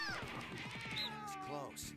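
A cat meows in the video game No More Heroes 2, a drawn-out wavering cry under steady game sound, with a person talking over it.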